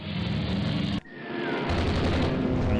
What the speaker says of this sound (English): Something just took 3 torpedo hits.